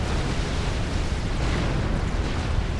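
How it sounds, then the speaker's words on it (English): Distant T2 artillery, a Miasma battery in the strategy game Supreme Commander: Forged Alliance, pounds away in a continuous low, rumbling barrage of muffled booms and blasts that never lets up through the moment. "his Miasma, his T2 artillery that's here, is shooting at these mobile missile launchers"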